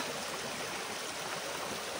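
Stream running beside the lost church in March, a steady close wash of flowing water with no voices.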